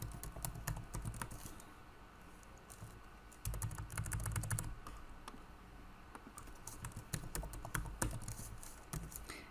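Fingers type a MySQL select query on a computer keyboard, a steady patter of quiet key clicks in irregular bursts, close and soft, with no talking.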